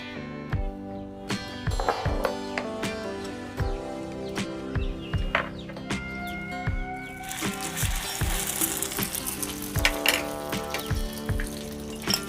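Bread sandwich slices coated in batter fry in a pan, giving a steady close sizzle throughout with scattered sharp pops and crackles.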